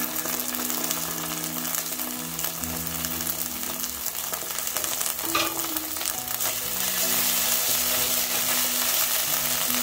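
Tomato paste sizzles steadily in a pan with sautéed onions and ginger for a Sossi meatball stew, a constant frying hiss with light stirring scrapes and no voices.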